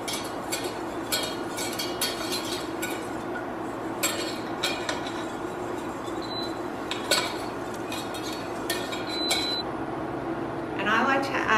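Flour being stirred in a pan on lowered heat for a vegan béchamel: scattered metallic scrapes and light clinks of a utensil against cookware, fairly steady and close, with occasional sharper taps and a faint background hum.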